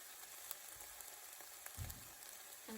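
Ground turkey with seasonings frying in a frying pan, a faint, soft sizzle and crackle with occasional small pops and a brief clatter, heard alone without talking.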